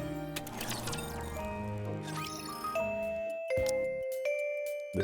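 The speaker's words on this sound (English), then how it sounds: "The school bell rings." A chiming school bell in the game Goddess of Victory NIKKE rings out over busy game music, its tones sustained and bright, then a couple of clear ding-dong notes follow as the music drops away.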